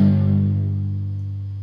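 A single distorted electric guitar chord or riff note at the 5th fret from a song rings out loud and sustained, slowly decaying with no other sounds.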